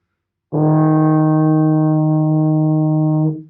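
A single steady E flat from a baritone horn, played with the first valve pressed, held for about three seconds, clear and close, then released.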